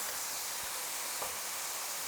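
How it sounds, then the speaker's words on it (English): Mushrooms sizzling in a frying pan while being moved around, a steady soft hiss with no voices. "I'm just moving them around in the pan to make sure that every single mushroom is on the bottom of the pan"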